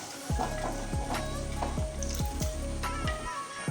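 A pot of ash gourd and prawn tamarind curry bubbles vigorously, thick blips and plops repeating every half second or so over a constant sizzling hiss.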